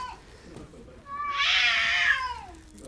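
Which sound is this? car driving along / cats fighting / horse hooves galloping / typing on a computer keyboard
cats fighting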